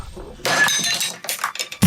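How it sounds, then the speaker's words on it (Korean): A toy robot is knocked off and falls to the floor in a Korean TV drama scene. A sharp, loud crash with rattling, clinking pieces comes first, then a brief pause and a heavier thump at the end. "전신마비인 강호가 로봇을 움직여 떨어뜨린 것이었습니다"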